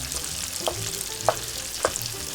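Sausage frying in a pan while broccoli rabe cooks, a steady crackling sizzle with a few sharp scraping clicks of a utensil stirring, close and alone without talk.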